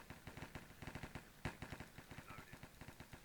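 Rapid automatic gunfire in the HyPixel video game, a fast, even stream of shots with one sharper, louder report partway through, heard close and continuous.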